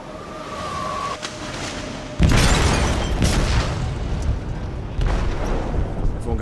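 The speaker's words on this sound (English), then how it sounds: "They detonated an explosive in the hold." Explosion detonated in a ship's hold in the game Detroit: Become Human: a sudden loud boom about two seconds in, then a long roaring rumble with further bursts, following a quiet tonal stretch.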